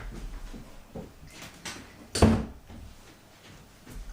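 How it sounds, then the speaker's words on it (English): A door is shut with a single sharp, close thud partway through, set against quiet room tone with faint scattered rustling around it. "I've got to shut the door."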